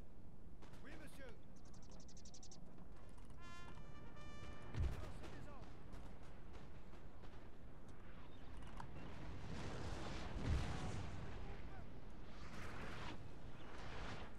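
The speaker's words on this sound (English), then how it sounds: "18-pounders from the right flank are firing at you." Battlefield din from 18-pounder artillery in Napoleon: Total War, with two distinct heavy booms standing out over constant rumbling battle noise and crackling musketry, and voices talking beneath.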